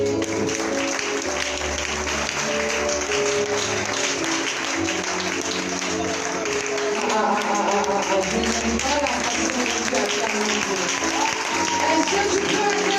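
A church conference crowd applauds and cheers steadily throughout, dense clapping and voices filling the hall at a loud, continuous level, with music and shouting woven through.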